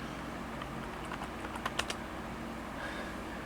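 Keystrokes on a computer keyboard while entering a disk-partition repair command, a few faint scattered taps under a steady background hum, with a small burst of clicks near the middle.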